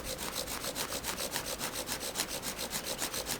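Fast, rhythmic rasping of a wooden drill spun against a wooden board to light a friction fire in the forest, even back-and-forth strokes about four per second, close and steady with no voices.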